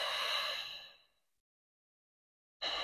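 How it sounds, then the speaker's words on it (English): A long, breathy exhale during a postnatal core exercise, close and fading out over about a second, then a pause of silence before another breath begins. "Exhale."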